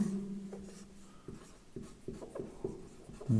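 Chalk or marker writing on a board during a physics derivation, a series of short scratchy strokes and taps in irregular rhythm, close and fairly quiet, with a brief hum at the start.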